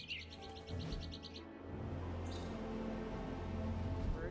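Birds chirp and tweet in Marvel's Midnight Suns, high repeated calls at the start over a low hum, then softer scattered chirps over steady background ambience.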